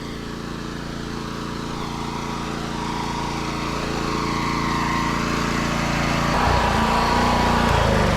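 A portable generator engine runs loud and steady at close range, a constant buzzing drone that swells slightly toward the end, with no talk over it.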